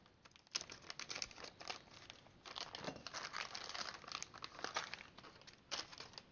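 Plastic parts bags for a Kyosho Ultima 2WD RC car kit crinkle and rustle close up as they are handled and pulled from a larger box, in steady irregular bursts with no talk.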